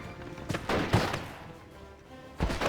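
Gunfire from a battle in the Steel Division Normandy video game, with a few sharp shots and bursts at irregular intervals over a busy combat background.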